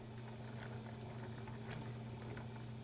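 Fava beans simmering in a pot of boiling water, with a steady low bubbling and soft popping patter under a constant hum, faint and continuous with no speech.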